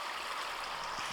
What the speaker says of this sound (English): We also have a little babbling brook.